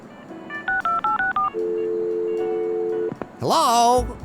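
Keypad dialing tones from a telephone in the game Leisure Suit Larry: Wet Dreams Dry Twice, a quick run of short beeps followed by a long steady tone, then a burst of louder game sound at the end.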